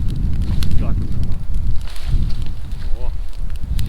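A campfire burns on frozen ground at minus 17 in winter, giving a close, rough roar and crackle with gusty wind noise, steady throughout.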